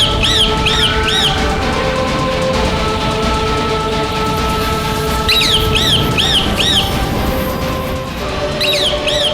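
Repeated chirping bird calls, said to come from a demon spy in bird form, ring out in bursts of rising-falling notes over a steady droning background bed, fairly close and clear.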